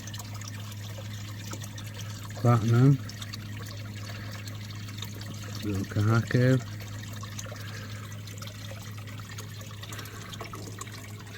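A small shower trickling water into a koi bowl, a steady faint dribble running throughout under two short bursts of close speech.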